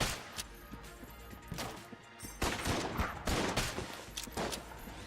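Winchester rifle fire in the video game Enter the Gungeon, a chaotic stream of sharp shots and crashing impacts, loud and dense, rising in intensity midway through.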